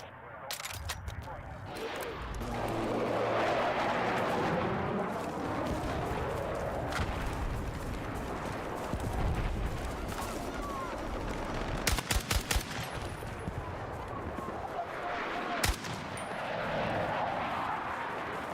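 Battlefield 6 troops attack with gunfire and artillery, heard as muffled explosions and a wash of battle noise, with sharp bursts of rapid shots in the middle and near the end, partly under talk.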